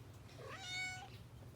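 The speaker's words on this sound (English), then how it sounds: "Halloween cats? No, just kitties." A single clear cat meow, rising and falling, faint and alone in a quiet outdoor garden setting.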